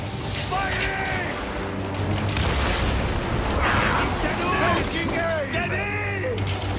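Galley ship battle in Assassin's Creed Origins, with repeated booming impacts and crashing over a dense din of rushing water and noise, and voices shouting throughout.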